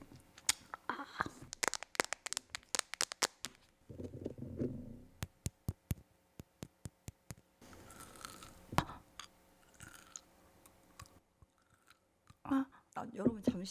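Close-miked chewing of frozen kohakutou jelly, ASMR style: rapid series of sharp crunchy bites and clicks, with stretches of softer mastication and brief voice sounds between bursts.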